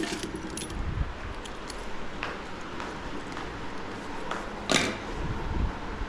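Two car keys jangling as they are handed over during a car sale, with a few light metallic clinks over a steady background murmur.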